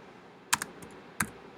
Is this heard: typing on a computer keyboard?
yes